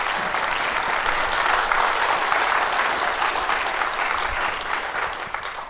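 A lecture-hall audience at a law school panel event on religious liberty claps to welcome the panelists, a sustained, even round of applause that tapers slightly at the end.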